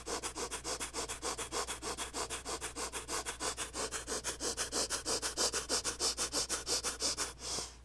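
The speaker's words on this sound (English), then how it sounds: "let's take 25 rapid inhales and exhales" A steady run of rapid, forceful sniffing breaths through the nose during a yoga breathing exercise, about four pulses per second, close and loud, continuing evenly for several seconds before stopping.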